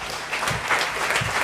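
Church congregation clapping together in brief, steady applause, moderately loud and close, with no clear talk over it.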